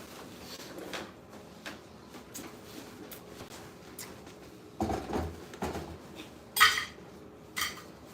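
Pots and pans clatter faintly while a stir fry is cooked, with scattered light clinks and scrapes and a few louder knocks and bangs near the end.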